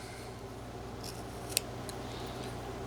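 A whittling knife cutting wood, quiet close strokes with a few crisp slicing scrapes and one sharp click partway through, with no talking.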